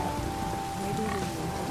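Light drizzling rain in The Witcher 3, a steady soft hiss of falling drops with a faint low rumble, continuous and even through the short stretch.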